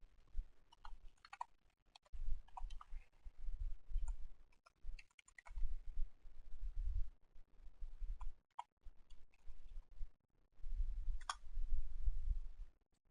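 Keys clicking in irregular bursts on a computer keyboard cluttered with objects, fairly close, with brief pauses between flurries of taps and no voices.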